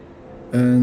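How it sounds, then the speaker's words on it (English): A bell rung by pulling a lever in the video game Dark Souls: a single loud, sustained tone that strikes about halfway through after a quiet stretch and keeps ringing with steady, bright overtones to the end. "And rings the bell."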